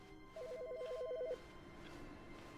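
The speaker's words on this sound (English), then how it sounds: "The phone!" A telephone rings in the game The Stanley Parable, one short warbling electronic trill lasting about a second, clear over a low ambient hum.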